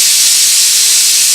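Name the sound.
releasing steam from a pressure cooker valve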